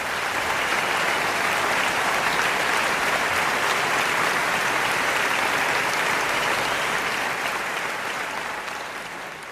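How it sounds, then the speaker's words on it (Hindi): Sustained applause from an audience filling a hall in Gurgaon at a business talk, steady and dense for the whole stretch and easing slightly at the end, with no talk over it. "जोरदार तालियों से स्वागत हो जाए"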